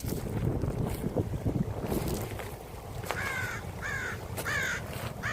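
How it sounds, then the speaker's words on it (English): A crow caws in three or four hoarse calls in the second half, over steady outdoor wind and boat noise with water beneath. "this crow probably wants me to give him some food or something"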